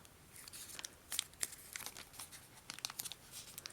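Paper crinkling and creasing while being folded into an origami machine gun, a string of soft crisp rustles and sharp little crackles, close and quiet.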